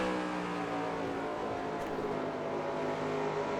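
A NASCAR stock car engine racing at Dover in the game NASCAR Racing 2003, a loud steady high-revving drone held for several seconds, with no talking.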